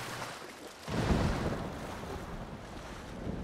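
Swimming through sea water in Ghost of Tsushima, a soft continuous wash of waves and water sloshing that swells after a moment, fairly quiet with no talk.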